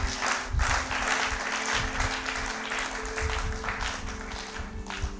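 Church congregation applauding steadily throughout, a dense close wash of clapping with a sustained organ or keyboard tone underneath and no speech.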